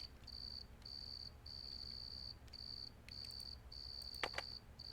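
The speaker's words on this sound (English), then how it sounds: "You have to wait for the crickets to go away." Crickets chirp at night in the fantasy role-playing game Betrayal in Antara, faint steady pulsed trills repeating in short regular bursts over a low ambient hum.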